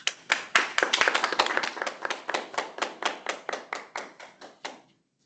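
Audience applause greeting a speaker at a Toastmasters-style session: a room of hands clapping steadily for about five seconds, dense at first, then thinning to a few claps before stopping, with no voices.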